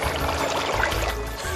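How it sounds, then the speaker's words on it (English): Liquid refrigerant poured into a cylinder, a steady close splashing trickle with faint bubbling, no voices over it. "I've poured some of the refrigerant into this cylinder"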